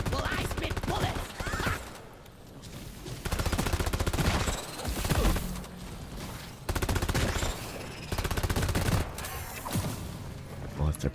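Bursts of automatic gunfire in Deep Rock Galactic, loud rapid rattles broken by short lulls across the stretch, mixed with clanking action sounds and scattered game voices.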